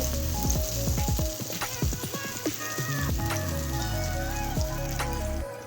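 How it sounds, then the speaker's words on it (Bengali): Loud, bubbling sizzle of eggplant and chickpeas frying in oil close by, with scattered pops and utensil scrapes over a constant hiss. "ছোলা বেগুন ভাজা ভাজা করাই হয়ে গেছে"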